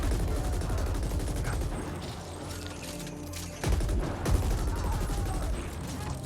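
Rapid gunfire crackles through a Valorant match on the Ascent map, dense bursts running almost throughout with a short lull midway before the shooting resumes loudly.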